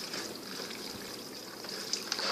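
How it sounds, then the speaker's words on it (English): Sauce pours onto pasta noodles in a steady, close, wet trickling gush lasting a couple of seconds, with faint splatters near the end and no talk. "we're just pouring some sauce"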